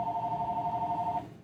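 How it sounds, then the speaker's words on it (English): A telephone bell rings steadily and loudly in an indoor room, a continuous ringing tone that stops abruptly near the end, with no talk over it. "I'll just keep talking over the phone ringing because it's just gonna ring for the rest of the freaking afternoon anyway"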